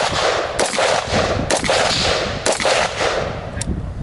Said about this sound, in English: Before I made the gun go bang.